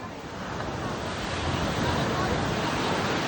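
Ocean surf washes onto a beach at Cinque Terre in a steady, full roar that swells slightly as it goes, with wind buffeting the microphone throughout and no voices.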